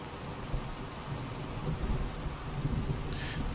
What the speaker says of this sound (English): It's a bit of a storm actually.